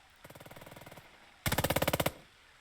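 Captured machine gun firing in the tactical game Burden of Command, two loud bursts of rapid, evenly spaced shots, the second burst louder and punchier, separated by a short pause.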